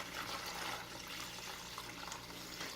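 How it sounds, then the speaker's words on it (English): Vinegar pours from a gallon jug over rusty Marx, Lionel and American Flyer toy train track, a steady, soft splashing and trickling wash of liquid heard alone, fairly faint and continuous. "So I'm just going to pour this directly over the track"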